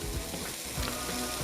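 Carrots sizzling and frying in a hot wok at steady close range, a continuous broadband hiss with occasional stirring scrapes, no voices.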